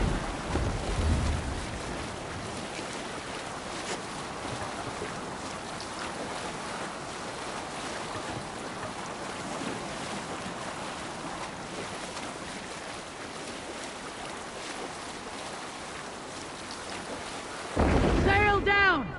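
Viking longship under sail in Assassin's Creed Valhalla, with steady wind and surging waves rushing past the hull throughout, a constant broad whoosh that swells louder near the end.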